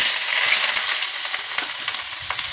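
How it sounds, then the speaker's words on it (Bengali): Chopped onion, ginger and garlic sizzle steadily in hot oil in a kadai in a home kitchen, a continuous bright crackling hiss with small pops and stirring, close and loud, with no talk. "কড়া তেল গরম হয়ে গেছে, এবার কুচিয়ে রাখা যে পেঁয়াজ আদা রসুন সব দিয়ে দেবো।"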